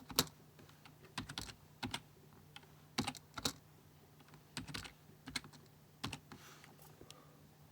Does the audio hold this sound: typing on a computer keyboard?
yes